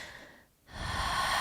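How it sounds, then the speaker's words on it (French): A soft breath drawn in through the nose during a yoga sun salutation, starting after a brief quiet gap and swelling into a steady, close airy inhale that holds to the end. "À nouveau, j'inspire"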